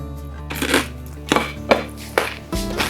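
Crispy baked zapiekanka bread topped with crispy onions crunches loudly under four or five sharp bites, close to the microphone, with short pauses between them.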